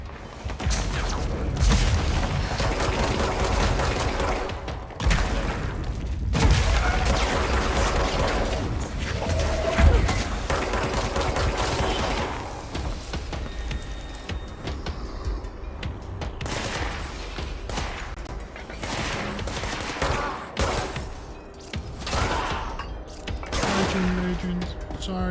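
Gunfire in the video game Control, with rapid bursts of shots and heavy booms recurring throughout against a dense, busy game soundscape, under occasional talk.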